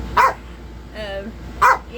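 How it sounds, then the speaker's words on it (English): A small dog barks sharply twice, close and loud, with a whiny yelp between the barks. "that's my little dog. And he's not going to let me"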